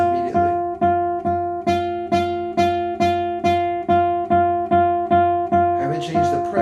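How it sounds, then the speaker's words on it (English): Guitar string repeatedly plucked while fretted away from the fret toward the nut: a steady series of about a dozen evenly spaced notes at the same pitch, close and clear, with a scratchy buzz toward the end and no talk. "you'll hear the string start to buzz immediately."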